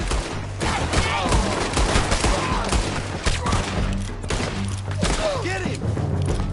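Gunfire in the Red Dead Redemption 2 video game: rapid, overlapping shots and booms in a dense, loud firefight, with shouting voices mixed in.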